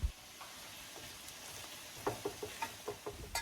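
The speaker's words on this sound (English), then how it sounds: "Air fry at 200 degrees Celsius for 13 minutes" Coles pork belly slices in tonkatsu sauce frying in a Philips air fryer at 200 degrees Celsius, a steady low hiss with a run of soft sizzling pops and crackles toward the end, close and fairly quiet.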